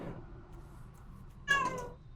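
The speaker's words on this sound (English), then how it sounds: "We had the cat crying." A sad house cat cries with one drawn-out meow, close and clear, over a low steady room hum, with no talk.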